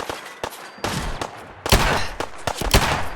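Several sharp gunshots from a .44 caliber gun in Fallout 4 fire in an irregular burst, loud and close, each crack with a short tail and no talk.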